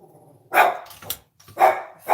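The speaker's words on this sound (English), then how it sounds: "My guard dogs have spoken." Guard dogs barking indoors, two loud bursts of barks close by with a short gap between, no talk over them.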